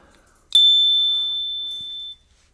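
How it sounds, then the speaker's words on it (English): A slim, hoop-style bell on an Ozark Trail gravel bike is struck once, giving a bright, clean ping that rings on and slowly fades over about a second and a half, alone and close. "Now this little bell I like. You don't even know you got a bell on your bike."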